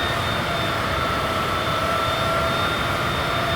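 A Honda jet taxiing in the MSFS 2024 flight simulator, a steady loud engine whine and roar holding constant with no speech.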